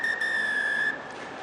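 A referee's whistle at a European Challenge Cup rugby match between Harlequins and Ulster sounds one long, steady, piercing blast over the crowd murmur before cutting off.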